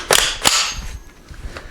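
Two sharp, loud gunshots from an FN PS90 firing 5.7x28mm, close together near the start, each followed by a short echoing tail and fainter mechanical clatter.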